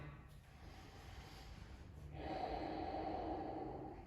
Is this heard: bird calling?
no